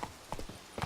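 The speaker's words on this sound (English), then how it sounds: "we'll wait for the horse to come over here" Geralt's horse Roach trotting in The Witcher 3, a quick run of clip-clopping hoofbeats over soft ambient game sound.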